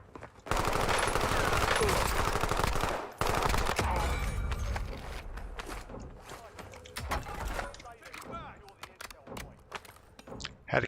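Rapid automatic gunfire from the video game Warzone REDSEC, loud and sustained bursts for the first few seconds, then scattered shots, clanks and footsteps under a speaking voice.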